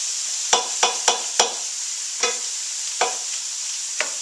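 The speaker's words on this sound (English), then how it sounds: "I'm going to let this cook for a bit" Bean, corn and zucchini chili cooking in a pot: a steady sizzling hiss with sharp stirring scrapes and clinks, four quick ones close together, then a few sparser ones.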